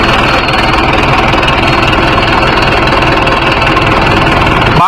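A Mahindra 605 S tractor diesel engine idles close by, loud and steady with a rough, even thrum and knocking pulse. The engine runs on unchanged and cuts off abruptly at the very end.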